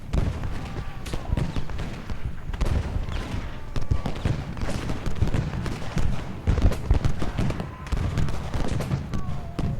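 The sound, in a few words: musket fire from skirmishers in Ultimate General: Gettysburg video game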